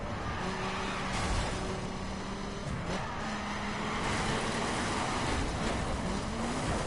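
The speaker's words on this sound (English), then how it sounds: "That drift turned into I'm hitting the side rail." A car in the racing game The Crew drifts across the road with tire squeal and steady engine drone. A few scraping knocks are heard as it hits a side rail, and the sound stays continuous with no talk.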